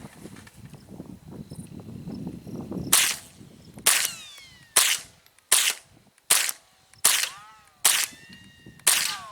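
A Mossberg 702 .22 rifle fires a string of sharp, loud gunshots at steady intervals, each crack ringing out with a short decay, after a stretch of muffled handling noise and faint background murmur.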